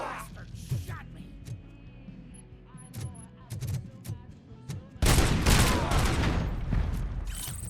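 Video game gunfire as Robocop opens up on enemies: scattered sharp shots and voices at first, then a dense sustained burst of rapid firing that takes over for the last few seconds.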